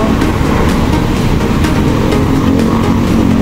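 A car travels along a highway in Hermosa, Bataan before dawn, with a steady, loud road and engine roar heard from inside throughout.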